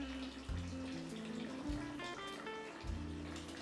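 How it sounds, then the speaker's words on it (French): Water runs steadily into a filling bathtub as a Lush bath bomb goes in, a continuous rushing wash with soft music-like tones underneath. "je mets une petite bombe de bain de chez Lush"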